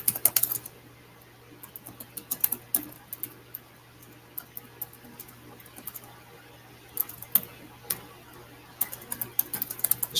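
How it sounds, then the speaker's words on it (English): Computer keyboard typing, quick bursts of keystrokes with short pauses, moderately close over a steady low hum and no talking. "Let me just type it like this to get it quicker."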